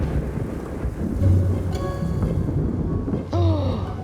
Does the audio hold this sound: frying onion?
no